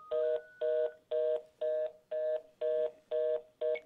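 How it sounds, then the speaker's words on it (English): An incoming phone call sounds as eight evenly spaced electronic ring tones, each about a third of a second long, repeating at a steady pulse, clear and close with no voices. "We got a phone call here."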